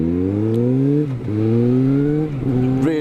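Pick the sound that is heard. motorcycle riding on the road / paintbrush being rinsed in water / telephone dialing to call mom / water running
motorcycle riding on the road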